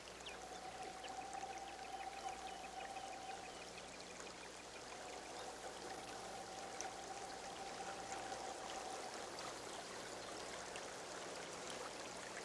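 A brook flows outdoors in a steady, soft, distant babble and trickle of water, with a faint sustained tone in the background and no speech.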